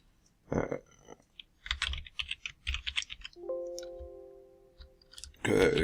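Keystrokes on a computer keyboard while Python code is written, a few brief bursts of close clicking separated by pauses, with a sustained electronic tone partway through.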